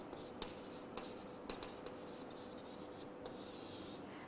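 Pen or marker writing notes on a board or paper in a quiet room, a steady soft scratching with light taps at intervals, continuous and close.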